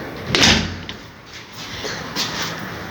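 A large door with black glass and a black frame slides and knocks once loudly near the start, followed by softer scraping and a lighter bump as it settles, close by in a quiet room.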